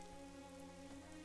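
Steady rain pattering on surfaces in the video game AI: The Somnium Files, a continuous soft hiss with a low hum beneath, even in level throughout.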